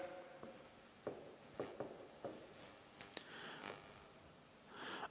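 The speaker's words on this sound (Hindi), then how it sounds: "तो ये दो विशेषताएं अपन और लिख देते हैं" A teacher writing notes during a lesson, faint scratching strokes with soft taps at irregular intervals and no talking.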